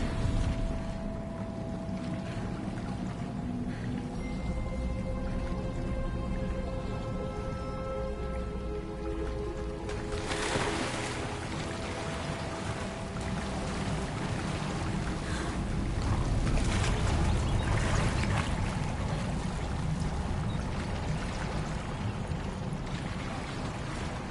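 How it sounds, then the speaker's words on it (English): Steady water bubbling and rushing in the fantasy video game Hogwarts Legacy, a continuous watery wash that swells louder midway and carries on without voices. "Look, where the water's bubbling."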